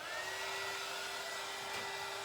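Heat gun used as a blow dryer on paint for a glass art canvas craft, a steady airy whoosh with a constant motor hum, held close and unchanging throughout.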